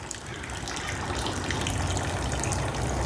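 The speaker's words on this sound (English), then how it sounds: "Let her drain, let her drain." Engine oil draining from an upside-down Ford Ranger 4.0 OHV block into a catch can, a steady loud gushing pour of liquid that holds without a break.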